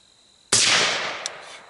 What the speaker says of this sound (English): I'm going to shoot on the inside now.